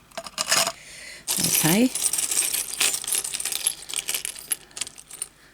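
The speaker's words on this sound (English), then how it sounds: "we're going to put these keys in this one" Metal keys rattle and clatter as they drop into a container, with a burst of jangling followed by smaller scattered clinks, and a voice briefly speaks.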